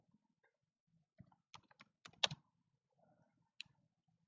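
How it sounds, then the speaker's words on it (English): Fingers tap out a command on a computer keyboard in sparse, uneven bursts, with a quick cluster of close, crisp clicks in the middle and a lone keystroke after a pause, in a quiet room. "we need to type the same name here"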